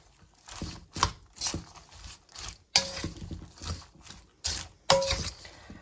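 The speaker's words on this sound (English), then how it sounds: "We're going to stir this together." A big spoon stirring a bowl of popcorn salad, a run of close crunchy, rustling scrapes and knocks in uneven bursts, loud and nearby with no talking.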